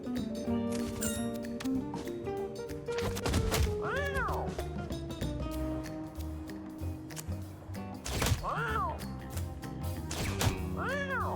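Cartoon cat meows and yowls from a Mewgenics battle, several rising-falling cries at separate moments over busy game music and hit effects, fairly loud and close.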